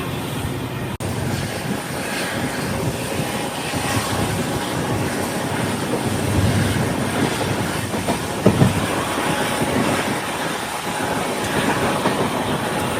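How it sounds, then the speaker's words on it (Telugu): A diesel locomotive hauls a passenger train toward the Pamban sea bridge, with a continuous rolling rumble, soft wheel clatter and occasional squeals heard from inside a carriage, steady and moderately loud. "మనల్ని పుల్ చేసేది డీజిల్ లోకోమోటివ్. ఆ పొగంతా మన డీజిల్ లోకోమోటివే కక్కేది."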